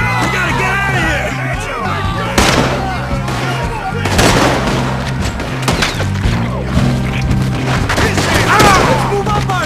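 Gunfire in the Western game Red Dead Redemption 2, with sharp repeated shots and booming blasts cracking over a busy mix of music and voices shouting.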